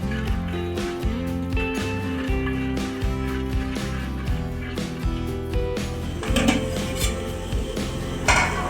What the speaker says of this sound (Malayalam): പഞ്ചസാര നന്നായി ഇളക്കി യോജിപ്പിക്കുക.